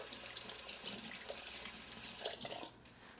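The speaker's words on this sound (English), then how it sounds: "we're gonna just walk it over to the sink and wash it for a minute" Tap water runs steadily into a kitchen sink while celery is rinsed, a continuous close splashing hiss that thins and drops off near the end, with no voices.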